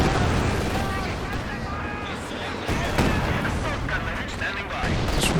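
A Katyusha rocket artillery barrage rumbles in the video game Company of Heroes 2. Dense, overlapping booms and rushing roars run continuously across the span, with a voice talking underneath.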